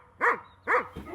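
A guard dog barks loudly twice in an even rhythm, close and forceful, with no talking.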